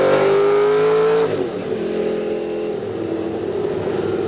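Race car engine revving hard while cornering with gentle steering, a loud high whine that drops in pitch after about a second, then settles into a steady roar with no talk.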